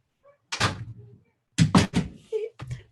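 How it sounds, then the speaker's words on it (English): An ordinary room door swung shut by hand with a couple of solid thuds and knocks, close by and fairly loud, separated by short quiet gaps. "Okay, I'm gonna shut my door."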